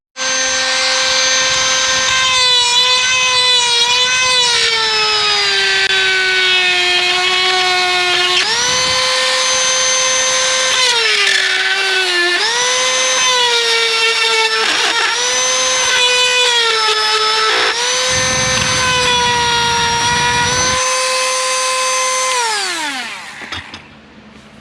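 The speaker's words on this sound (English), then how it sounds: "I'll put a sanding wheel on there, and I'll just kind of use the Dremel still and just Dremel that down" A Dremel rotary tool fitted with a sanding wheel grinds down metal in a loud, close, continuous high whine whose pitch sags and recovers as the wheel bites, then spins down at the end.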